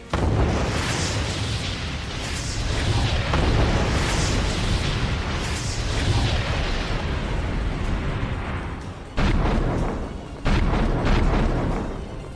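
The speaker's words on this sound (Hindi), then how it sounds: "रूसी सेना का विस्फोटक हमला जारी है।" Heavy Russian military shelling in eastern Ukraine's Donetsk region, heard as a continuous roar of loud, booming explosions and rumbling blasts, with brief drops to quiet before the thunder resumes.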